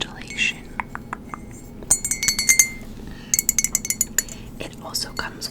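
Glass clinks and a spoon tapping against an Aquarius constellation mug with a topper come as scattered sharp chimes and clusters of quick clinks, close and soft, with whispering between them.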